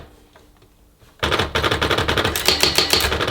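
A Brother AX-15 electronic typewriter goes quiet, then bursts into a rapid, steady chatter of loud mechanical strikes, close up and continuous to the end.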